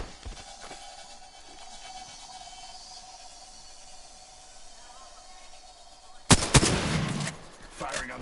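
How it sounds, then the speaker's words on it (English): Gunfire in the shooter video game Apex Legends: a long quiet stretch of faint background hum, then a sudden loud burst of shots near the end, followed by one more short volley. "Firing on that cover."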